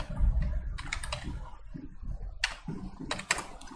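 Steady computer keyboard typing as text is entered in Photoshop, quick clustered key clicks close to the mic with no talk.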